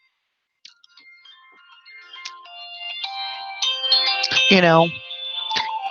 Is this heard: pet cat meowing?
no